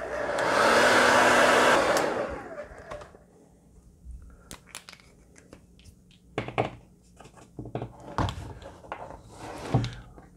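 A hair dryer blows loudly for about two seconds to dry a Posca paint marker drawing, then cuts off, followed by scattered soft clicks, taps and handling noises at close range.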